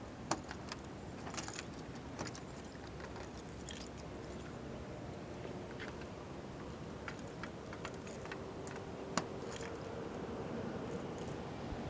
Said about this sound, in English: we use our key again, and we simply just lock it in place